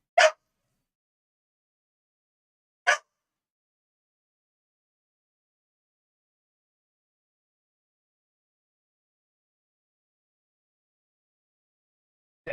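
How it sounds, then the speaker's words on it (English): Two short, sharp dog barks spaced a few seconds apart, with a third starting at the very end, over an otherwise silent background. "Dog going nuts."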